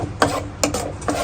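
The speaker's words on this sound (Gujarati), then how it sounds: "પછી આ મસાલાને બધાને એકરસ કરી નાખવાના છે." A spoon stirs and mixes spice masala in a cooking pan for a guavar bean dish, giving three soft scraping strokes at an even pace, close by, with no talking.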